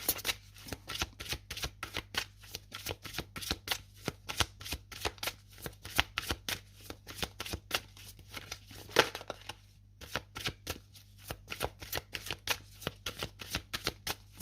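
Oracle card deck shuffled by hand, a long run of quick, crisp riffling snaps and slaps at close range, fairly quiet and rhythmic, with one brief pause near the end.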